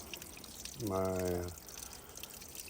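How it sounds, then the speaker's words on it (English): Water pouring briefly into a Be-Free collapsible water bag at a sparse trail water source on the Appalachian Trail, a short half-second trickling gush under faint outdoor background, with a voice speaking briefly. "There ain't a lot of water here, but I think I can fill my bag up."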